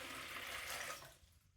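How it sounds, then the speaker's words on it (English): About 800 ml of water poured from a container into a bucket for mixing clay slip, a short soft splashing rush that fades out. "got 800 mils of water here. I'm gonna pour that into my bucket"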